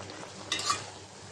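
Water spinach (kalmi shak) with potato stir-fried in a pan, with a quiet sizzle and a short scrape of a spoon stirring the greens, faint and close.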